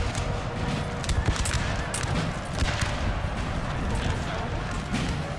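Musket volley fire from an infantry firing line in the video game Napoleon: Total War, with dense overlapping crackles of gunshots over a constant roar of battle, joined by hoofbeats and mixed distant and nearby shots.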